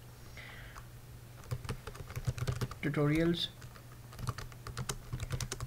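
Typing on a computer keyboard in quick bursts of close, crisp key clicks, briefly interrupted by someone speaking before the tapping resumes.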